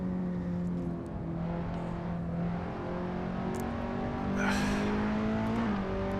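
A Skip Barber Formula 2000 open-wheel race car engine in Assetto Corsa drones at steady high revs, then rises in pitch with a brief squeal near the end, loud and continuous with no talk.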